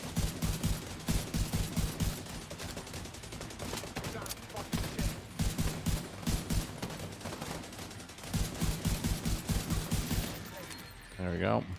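Rapid weapon fire from The Division 2 video game, dense bursts of gunshots rattling almost continuously and loud, with a brief lull near the end.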